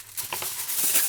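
Part of a Shadow of the Colossus sculpture is torn up, a short, close crinkling rip that builds over about a second, alone without speech.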